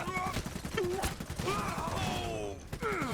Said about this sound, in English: They're shooting at us.